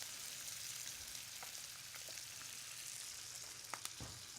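White wine poured into a sizzling pan of paella Valenciana sets off a steady, close frying hiss with scattered pops and crackles and a few sharper spits near the end.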